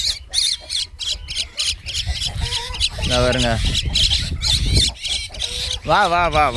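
A myna chick and its parent mynas call near a hut, giving harsh squawks and rising chirps over and between a person's coaxing speech.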